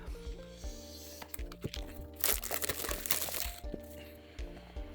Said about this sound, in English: Let me grab a tiny blade to cut through the plastic